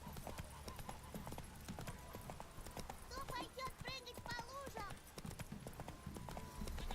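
Horse hooves clip-clop at a steady galloping rhythm in The Witcher 3 video game, fairly faint and continuous throughout, with voices talking over parts of it.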